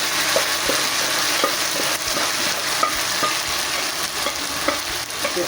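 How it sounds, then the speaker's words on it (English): Jute mallow and cowpea leaves go into a hot cooking pot, giving a steady close sizzle and frying hiss with light stirring clinks and scrapes throughout, no voices. "Now take your vegetable, add to your cooking pot."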